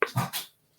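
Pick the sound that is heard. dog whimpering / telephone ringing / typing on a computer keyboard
dog whimpering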